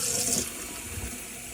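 Water gushes steadily from a tap in a Frankia Luxury Class motorhome with the water pump on, a close, continuous splashing flow that dips a little after the first moment.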